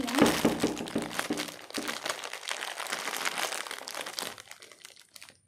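Plastic wrapping crinkles and crunches while a Labubu toy from the Happy Factory series is unboxed, a dense crackling close up that continues for several seconds before trailing off.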